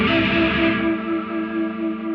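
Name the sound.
JET JS-700 electric guitar with effects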